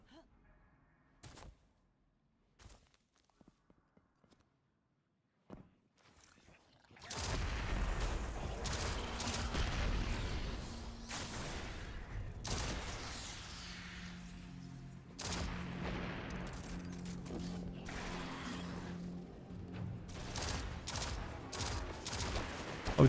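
Gunfire and exploding barrels in Destiny, a few sparse clicks and thuds giving way to a sustained roar of shots, booms and explosions that rumble on for over fifteen seconds at a steady loud level.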